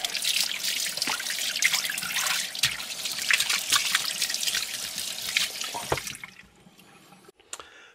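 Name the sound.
tap water rinsing pork belly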